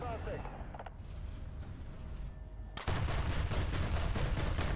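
A machine gun fires in War Thunder in a dense, steady stream of rapid shots that starts mid-way and jumps louder, over a constant rumble of game noise.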